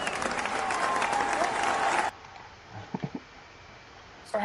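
Loud audience applause and some cheering for about two seconds, then it cuts off abruptly into near quiet with a few soft voice sounds.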